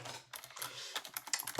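Quick, uneven clatter of fingers typing on a computer keyboard at a desk, close and fairly soft, keystrokes tumbling in short flurries with no one speaking.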